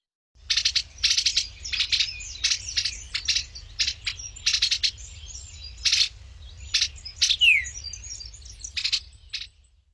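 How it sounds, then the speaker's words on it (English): Recorded eastern bluebird call from a meadow garden, a series of short soft chirps and warbled notes in quick clusters with brief pauses, clear and close over a faint low rumble. "I'm going to play the call of the bluebird for you now."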